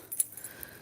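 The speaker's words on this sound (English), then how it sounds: "Chuck the keys down." A set of keys tossed down and landing with a brief, light metallic jangle, one quick clink burst followed by faint rattling, heard close and quiet.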